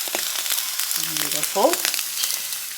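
An egg sizzles steadily in a hot pan, with a constant crackling hiss running throughout and a short spoken remark over it partway through.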